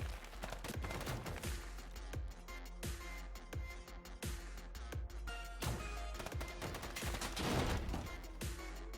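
Minigun fire in the video game Overdrive Escape: loud, dense bursts of rapid automatic shots with short gaps between volleys, close and continuous.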